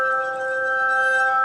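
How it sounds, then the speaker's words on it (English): Glass harmonica, Benjamin Franklin's invention, sustaining pure ringing glassy tones in a steady chord, loud and continuous with no talking. "Yeah, I like glass harmonica."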